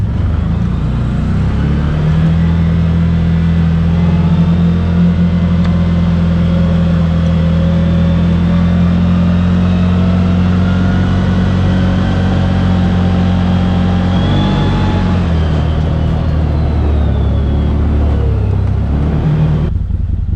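Steady engine drone from a 2023 Gen2 CFMoto ZForce 800 Trail UTV creeping along in low range and two-wheel drive. The pitch holds fairly even, dips briefly near the end, then picks up again, loud and close throughout.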